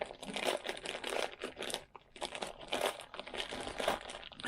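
Square Pillow Cube pillow packaging being unwrapped up close, with repeated bursts of crisp plastic crinkling and rustling separated by brief pauses.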